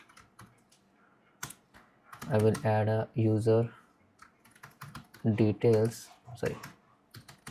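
A computer keyboard that isn't working properly is typed on in quick, scattered clicks throughout, with someone talking over the keys in short bursts.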